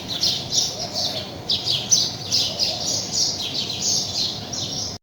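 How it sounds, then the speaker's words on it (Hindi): Many small birds chirping in a tree, a busy overlapping chorus of high, quick tweets that keeps going steadily and fairly close, with no talk over it. "यहाँ पे इतनी ज़्यादा चिड़िया होती है ना इस दरख़्त में और ची, ची, ची करती है"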